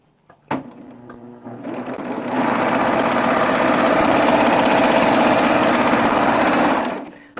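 A Baby Lock serger runs a 3-thread overlock test stitch: a sharp click, then a steady, fast mechanical whir that holds evenly for about five seconds before stopping.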